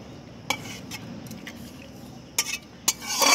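A cooking pot is lifted off a stove on a rooftop, with scattered metallic clinks and scrapes of pot and utensil, a few sharp taps and a louder clatter near the end, over faint outdoor background.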